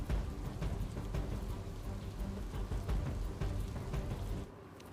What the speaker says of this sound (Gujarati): જમ્મુ કાશ્મીરના ઉધમપુર જિલ્લામાં ગઈકાલથી ધોધમાર વરસાદ ખાબકી રહ્યો છે